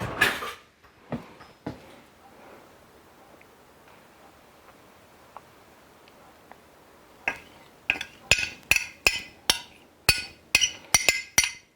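A spoon knocks and scrapes batter out of a bowl: a few sparse clinks at first, then a quick run of sharp metallic taps against the bowl, close and clear, with no talking.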